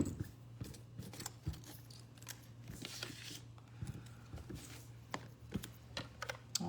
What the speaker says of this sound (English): this is the last bit of fussy cutting for today